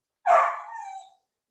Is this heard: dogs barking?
yes